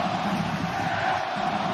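Guadalajara football fans cheer in a stadium crowd, a steady distant roar of many voices with no break across the short stretch.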